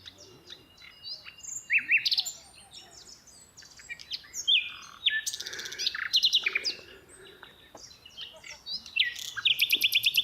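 Small birds sing and chirp on a hike toward Takht-e-Sang, with bright trills and whistled phrases in bursts, some close and some farther off, in an otherwise quiet outdoor setting.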